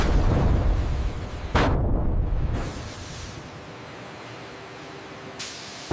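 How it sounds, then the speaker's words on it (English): High-pressure air blasts through a 5-gallon PET water bottle blow molding machine in a large factory: loud, roaring bursts of rushing air, a sharp cutoff, a second blast, then a fading hiss and a brief puff at the end. "In the pre-blow stage, low-pressure air rapidly expands the heated plastic, creating this fragile, glowing bubble before it meets the mold walls."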